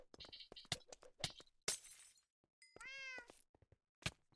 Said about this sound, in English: Oh, you got a cat too.